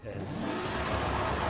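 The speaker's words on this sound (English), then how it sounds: "it's essentially just a new turbo upgrade option, and it sounds just how you would expect" Turbocharged car engine revving in Forza Horizon 5, a steady loud mid-pitched drone lasting the whole moment with a voice talking over it.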